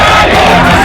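A huge crowd shouting at a protest in Bangladesh, a loud, dense roar of many voices yelling together in a short burst.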